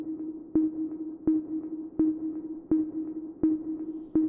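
A synth pluck made in an Audio React synth rack repeats at an even, steady pulse, each note a sharp attack ringing into a sustained mid tone, with no voices over it.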